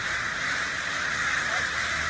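Crows caw steadily over a loud, even background noise, their calls coming from some distance rather than close by.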